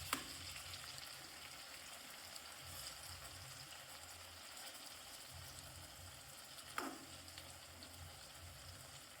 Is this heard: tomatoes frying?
yes